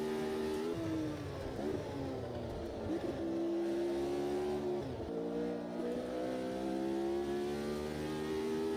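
A V8 race car engine in a sim racing game drones loudly and steadily, its pitch shifting through gear changes with downshifts around the middle and climbing again as it accelerates.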